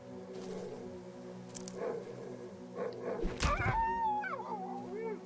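A dog in the horror video game Darkwood barks and whimpers nearby, then lets out wavering, drawn-out howls that rise and fall against a quiet, tense ambient background.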